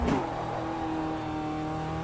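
A race car in Automobilista 2 holds a steady high-revving engine drone with layered harmonic whine after a brief louder burst at the start, continuous and close throughout.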